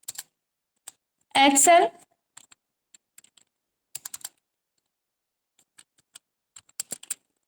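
Sparse, quiet clicks of a computer keyboard as text is typed into MS Word 2013, scattered taps in short clusters with a brief spoken word near the start.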